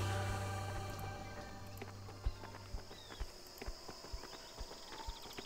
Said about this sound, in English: you can hear Lothar's footsteps